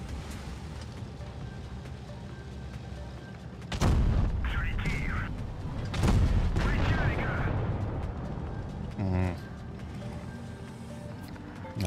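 In a tank battle video game, an autoloading cannon fires loud booming shots, with a couple of heavy blasts a few seconds apart amid rumbling background noise, and a voice talks briefly.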